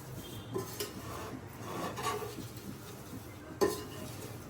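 Poha (flattened rice) frying in a pan is stirred with a utensil, producing soft scraping and rustling with occasional clinks against the pan, close and fairly quiet, no talking.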